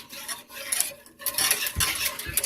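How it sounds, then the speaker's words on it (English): Spoon scraping and clinking around a warm pot as sugar dissolves for a bread dough, steady irregular stirring strokes, close and fairly quiet, no voices. "I'll turn the heat off and just stir this till the sugar is all dissolved"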